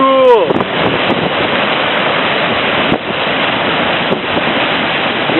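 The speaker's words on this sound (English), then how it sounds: "Waves are insane." Loud ocean surf churns and crashes steadily near a sea cavern, broad roaring wash with wind buffeting the microphone and a brief excited voice at the start.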